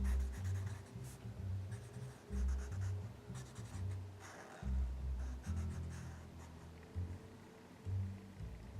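Shadows are colored in on a drawing with a marker or pencil, making close, scratchy back-and-forth strokes in short repeated bursts with brief pauses between them.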